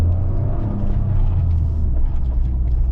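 2023 Toyota GR Corolla Core with manual transmission on the road, a steady loud low engine drone and road rumble filling the cabin without pause.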